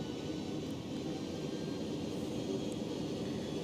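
Aircraft engines in the X-Plane 11 flight simulator throttling back up on a FedEx cargo flight from KSFO to KSEA, giving a steady, moderately quiet jet drone and whine that holds at one level throughout, with no talking.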